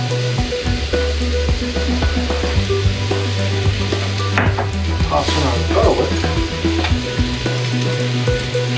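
Garlic hits hot oil in a pan and sizzles loudly and steadily, with scraping and stirring clatter from a utensil and a low hum running underneath throughout.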